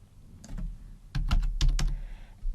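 Fingers type on a computer keyboard in a short irregular burst of crisp clicks, with a few isolated taps first and then a denser cluster, close and fairly clear.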